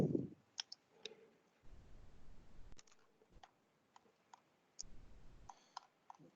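Faint, scattered mouse clicks while scrolling through a document on a computer in a meeting room, with quiet irregular taps and short gaps of near silence between them.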